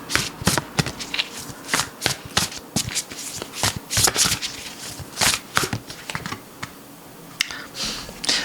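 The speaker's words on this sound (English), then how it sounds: "I just want to pull 3 more cards from this deck" A deck of tarot cards being shuffled up close, with bursts of crisp riffling and slapping clicks coming in irregular clusters, separated by short pauses.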